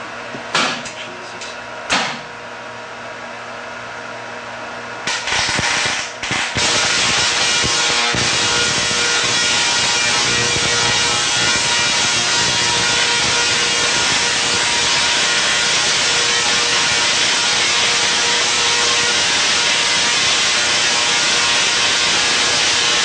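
Loud, continuous buzzing crackle from a Tesla coil discharging at over 90 secondary amps, starting after a few sharp bursts and then roaring steadily and harshly at close range for nearly twenty seconds.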